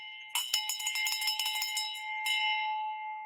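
Handheld bell rung in celebration of a closed real estate deal, a rapid burst of bright clangs for about two seconds followed by one more strike and a lingering metallic ring, with no talking.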